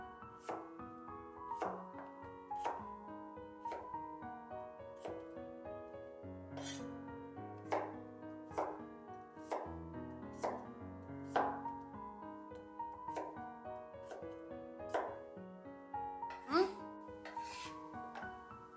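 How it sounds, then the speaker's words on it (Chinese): A knife chops a peeled large potato into small pieces on a cutting board, first halving it and then cutting smaller chunks; a steady series of sharp, close thunks falls in an irregular rhythm with no talk. "先给它对半切开，然后再改一下刀，给它切成小块"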